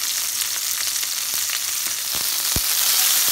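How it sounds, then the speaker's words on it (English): Prawns pan-frying in a kimchi-based coating, a steady close sizzle with scattered pops and spits and one sharp crackle near the end, no voices. "Pan fry the prawns on both sides."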